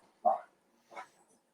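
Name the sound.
small dog barking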